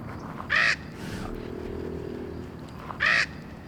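Lita, a young raven, gives two loud, harsh caws a few seconds apart and a fainter call between them, over a low, steady background hum.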